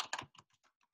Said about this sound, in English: when I'll type in here